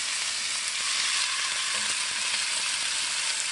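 A chuck roast searing in a hot pan with onions, a loud steady hiss of sizzling fat filling the whole stretch close up, with no talking.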